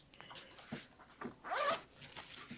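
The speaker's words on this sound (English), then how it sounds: "There's a zipper on the front here with a pocket that opens the whole side." A zipper on the front pocket of a fabric tote bag is drawn in one short, raspy pull, close and soft, with faint handling rustles before and after.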